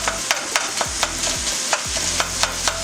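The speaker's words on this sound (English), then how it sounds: "We're gonna fry up this ground pork." Ground pork sizzles steadily in a hot pan while a utensil chops and scrapes it into small pieces, sharp regular knocks recurring roughly every third of a second over the frying hiss.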